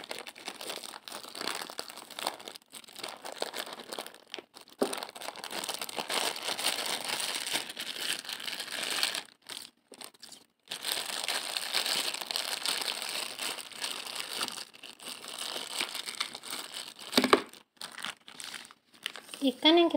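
Plastic wrapping around stored fish crinkles and rustles in bursts close to the mic, with short pauses between handlings and a voice speaking quietly underneath.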